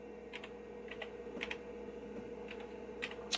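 Keys clack on a computer keyboard in uneven bursts of quick taps, fairly close and moderately loud over a steady electronic hum, with no talking.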